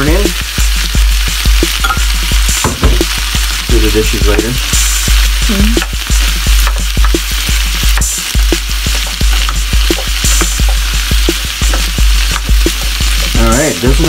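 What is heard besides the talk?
corn frying and being stirred into pork vegetable stew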